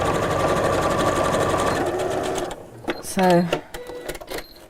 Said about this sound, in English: when it slows the machine down, the stitch looks smaller